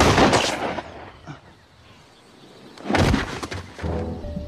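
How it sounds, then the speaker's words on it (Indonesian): Gunshots in a survival film, where a mother shoots her own son Daniel on a mysterious island: loud sharp bursts at the start, a quiet stretch, then another loud blast with a lingering ringing tail. "ternyata ibunya sendiri yang sudah menembak Daniel"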